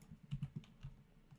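Several quick computer keyboard and mouse clicks during modded Minecraft play, a close cluster of three or four sharp taps followed by a couple of softer scattered clicks, quiet with no talking.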